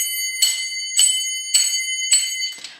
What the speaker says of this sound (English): So if you are striking really hard, it's going to sound louder.